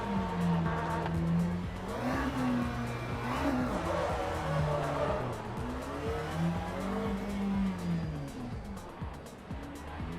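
Pack of race cars rolling on a formation lap in Le Mans Ultimate, engines droning and rising and falling continuously at moderate revs, a dense layered rumble that stays loud throughout.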